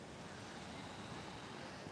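Ocean waves rolling onto an oceanfront shore, a faint, steady wash of broadband surf mixed with wind noise on the microphone.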